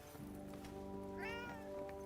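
A cat meows in the Forspoken video game, one rising and falling call standing out above a steady layer of game music and ambience.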